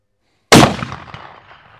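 A single loud, close shot from a Mossberg Patriot rifle in .300 Win Mag, a sharp crack after silence followed by a long fading outdoor echo.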